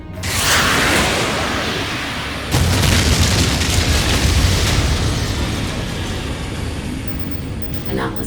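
Missiles exploding in a sci-fi film space battle, two loud, deep booming blasts that roll into a sustained roaring rumble, heavy and close, with no voices over them.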